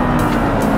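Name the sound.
Audi R8 V10 engine accelerating on racetrack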